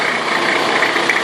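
A Nissan GU Patrol with a TD42 diesel engine runs steadily at close range, a loud, even mechanical clatter and drone that holds without change through the brief moment.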